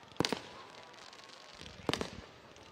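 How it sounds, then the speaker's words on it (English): Two loud bursts of fireworks crackle and boom at a high school homecoming football game, each a quick cluster of pops, over a steady crowd and stadium murmur. "Don't you love fireworks?"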